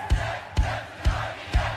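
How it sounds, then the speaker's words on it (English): A crowd at a protest rally chants in unison, four strong rhythmic pulses of many voices falling about half a second apart, loud and close with a steady crowd murmur between beats. "the crowd was chanting along"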